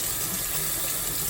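Water running steadily from a tap to soak a girl's natural hair for shampooing, a continuous close gushing with no voices.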